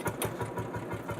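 An old Percheron tractor engine runs just after starting, a steady low chugging with even rapid beats, close and continuous with no talk.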